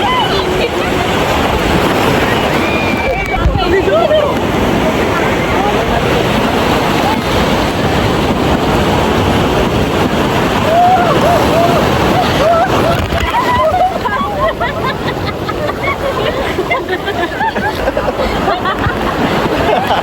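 Sea waves on the beach at Puri, a constant loud wash of surf and splashing close by, with people talking and calling out over it throughout.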